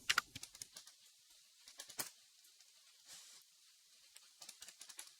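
Typing on a laptop keyboard into a command prompt, bursts of light rapid key clicks with a short pause in the middle, close and quiet, no talk.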